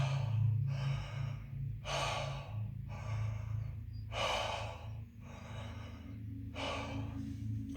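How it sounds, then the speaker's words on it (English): Slow, steady exhalations through an open mouth during a calming breathing exercise, six long breaths out spaced about every second and a half, close and clear over a low background hum. "breathe through the mouth for this"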